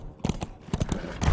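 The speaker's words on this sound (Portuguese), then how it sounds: "vemos apenas um cavalo atravessando a neblina" Hooves of a single horse clip-clop in an uneven trot through a foggy film scene, with sharp, close knocks in quick succession and a rising rumble toward the end.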